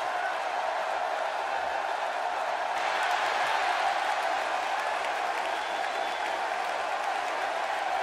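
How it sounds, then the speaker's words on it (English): A large arena crowd roars and cheers through a WWE 2K16 wrestling match, a sustained dense wash of noise that swells slightly partway through with no pause. "listening to the reaction this guy gets from a crowd never gets old"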